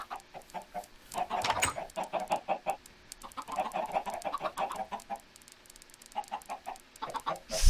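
Chickens cluck in short bursts and choppy runs at a chicken killer farm in the Minecraft video game, several birds overlapping at close range with brief pauses between bursts.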